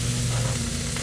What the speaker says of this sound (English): Ribs are cooking, almost done.